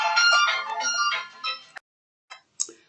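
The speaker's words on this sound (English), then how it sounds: "As soon as I'm going to do a video, the phone rings" A phone ringtone plays, a bright melodic electronic tune lasting over a second, close and clear, then cuts off and is followed by a few brief clicks and faint sounds.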